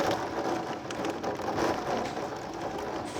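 Heavy Midwest thunderstorm rain pours down steadily, a dense close hiss of drops hitting surfaces that holds throughout with no voices.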